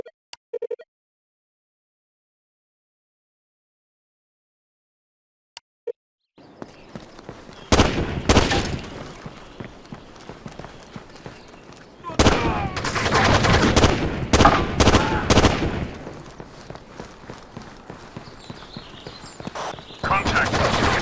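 Gunfire in the tactical shooter video game Rainbow Six 3: Black Arrow, set in an open-air market. Sharp shots come in bursts after a near-silent start, loud and close, and radio-style voices speak alongside the shooting.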